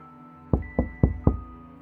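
Four evenly spaced, firm knocks strike a front door in a quiet country house, loud and close, with no voices.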